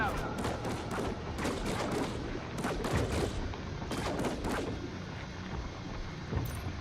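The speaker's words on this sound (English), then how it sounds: "They're really trying to shoot me from all the way back there." Distant enemies fire on the player in Death Stranding 2: On the Beach, rapid bursts of gunshots crackling in clusters at moderate, fairly faint level over steady game ambience.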